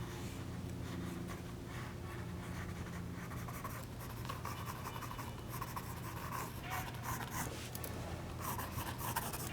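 Pencil or pen scratching and rubbing steadily on paper while sketching furry character paws, close and continuous, with a low steady hum underneath.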